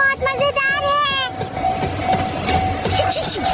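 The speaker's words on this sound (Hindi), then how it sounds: "मिनी ट्रेन भी चलती है इस पार्क में" Cartoon mini train running on a track in a park, with clattering wheels and rumbling carriages heard close after a voice at the start.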